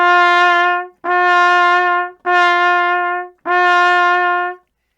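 Trumpet sounding the note G on the second line with valves 1 and 3 pressed, four sustained tones of steady pitch separated by short breaths, loud and alone.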